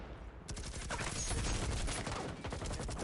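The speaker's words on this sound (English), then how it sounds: "A lot of grenades, a lot of firefights going on right now." A video game firefight in which gunfire and grenade blasts roar without a break, a dense barrage of shots and explosions overlapping loudly for the whole stretch.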